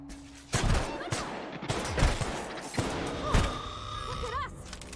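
A rapid series of sharp electrical rifle shots in The Outer Worlds, irregular bursts of loud cracks with zapping, whining tones between them, heard with brief faint game sounds.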